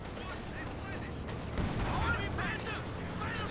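Gunfire crackles through a continuous battle din in the World War II strategy game Company of Heroes 2. The shots are mixed with distant explosions and mechanical rumble.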